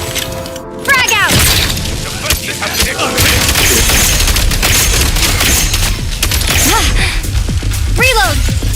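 Frag grenade blast in a video game, a heavy boom opening a dense stretch of rapid gunfire, whooshes and crashes, loud and close, with shouted voices mixed in.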